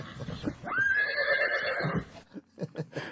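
A horse lets out a loud, close, drawn-out whinny lasting over a second, with a few short thumps and voices just after as it fades.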